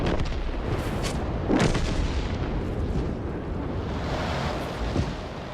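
Tank guns fire in a World of Tanks battle, several booming shots with rumbling tails over continuous engine and wind-like noise, loud and close.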